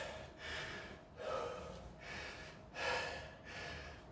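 Deep, heavy breathing after a circuit training workout, four slow inhale-exhale cycles in a steady rhythm, close and fairly quiet, with no talk over it.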